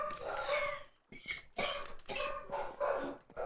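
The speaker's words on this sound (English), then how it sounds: "You can go ahead and close that door to stop the barking." Dog barking from behind a door, a series of muffled, uneven barks and yips in short bursts, moderately close and fairly faint.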